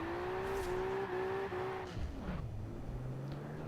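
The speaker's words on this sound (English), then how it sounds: "I'm just running a stock RB26 engine in it, so it doesn't have a huge amount of power" Nissan S13 with a stock RB26 engine in Forza Horizon 4, on icy snowy night roads, revving hard with a steady high engine note that drops and settles into a lower drone.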